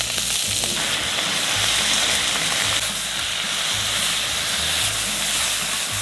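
Country chicken fries in a pan, giving a loud, dense hiss of sizzling oil that stays constant and near, with faint low rumbling beneath and no voices.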